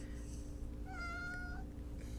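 A pet cat meows once, a clear rising call lasting under a second, heard over steady low room noise and hum, fairly close.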